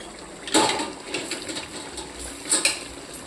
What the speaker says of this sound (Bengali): এখন চিকেনটা ঢাকা দিই।